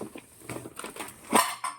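Glass dishes clatter and clink in short, irregular bursts during household packing, with a louder crash of glassware near the end, close and without speech.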